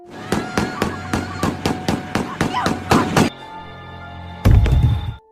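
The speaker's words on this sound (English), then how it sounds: "Luann shot him and the psychopath fell" A rapid string of sharp gunshot-like bangs, about a dozen in quick uneven succession, followed by a sustained tonal ring and then a final heavy burst, from an animated story.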